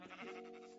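One sheep in the Hungry World block-building game gives a single wavering bleat, short and fairly faint, with a nasal buzzing tone and nothing else heard.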